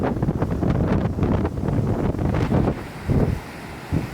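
Wind buffeting a microphone at Cape Point campground on Hatteras Island, a loud, gusty low rumble that swells and dips in uneven waves with no voices.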